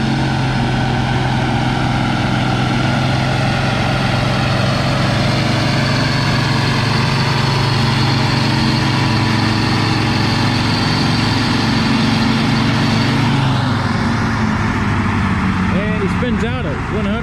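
An Allis-Chalmers D21 tractor roars loud and close at a vintage tractor pull, its heavy engine droning steadily before the pitch shifts near the end, with a voice talking over it.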